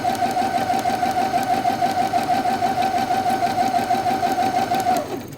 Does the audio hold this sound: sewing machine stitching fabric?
yes